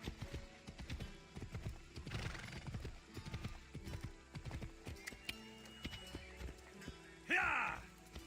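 A horse in Assassin's Creed Odyssey gallops off in a rapid, rhythmic clip-clop of hooves, close and fairly loud, with a sharp neigh near the end and a voice talking briefly over the ride.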